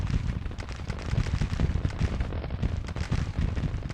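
Sustained rolling gunfire and cannon booms around an artillery battery in the Civil War strategy game Grand Tactician, dense overlapping shots and blasts filling the scene continuously at a loud, steady level.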